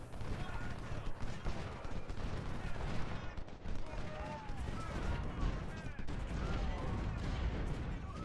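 Dense, continuous musket and cannon fire from a Civil War battle at Shiloh in the strategy game Ultimate General: Civil War, with overlapping crackling volleys and dull booms at a steady, busy level.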